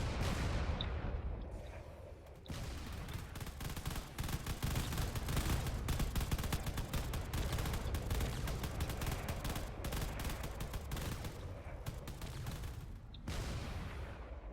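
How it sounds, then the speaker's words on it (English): Distant frigates fire their guns in a sci-fi battle, a dense continuous barrage of rapid shots and booms with short lulls near the start and the end, loud and sustained, with no speech. "There's still all those frigates in the distance that need to be dealt with, and they are definitely firing away"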